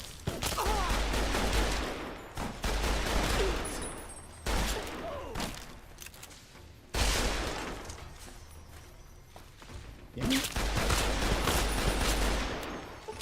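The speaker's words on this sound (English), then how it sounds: "Is that a hunting shotgun?" Rapid, dense blasts of hunting shotgun fire in the Fallout game, a sustained barrage of loud gunshots broken by a few short gaps, with a faint voice underneath.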